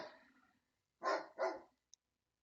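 A dog lets out two quick, loud barks close by after a softer whining or growling sound, followed by a tiny high yip, with quiet in between.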